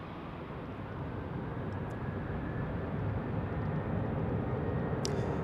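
An airliner taking off from Salt Lake City airport at night, a steady broad jet roar that builds slowly and holds loud and close throughout, with no voices.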